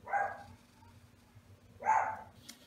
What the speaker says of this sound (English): It's a good thing I work for an animal sanctuary because my dogs are barking